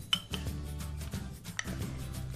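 A spoon stirs chopped fruit into yogurt with oats in a bowl, scraping and clinking against the bowl in irregular strokes, close and distinct with no talking.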